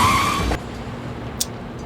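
Car tires skid in a short loud screech that cuts off abruptly into quiet, with a small click shortly after.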